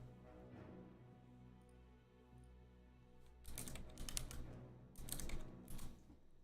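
Keys on a computer keyboard clatter in two short, quick bursts of typing at a desk, faint and close, with quiet room hum in between.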